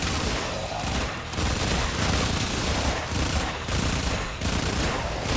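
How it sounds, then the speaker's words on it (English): Electric Gatling-style minigun firing continuously in the Warframe video game, a dense, loud, rattling barrage with a fast steady rhythm and slight periodic swells, with no pauses. "This is a minigun. You know, electric Gatling gun."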